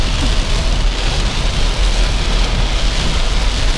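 Heavy rain from a storm pours down in a dense, steady, loud hiss, drumming continuously on a surface with no pauses and no voices.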